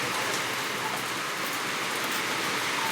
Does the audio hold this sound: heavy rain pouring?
yes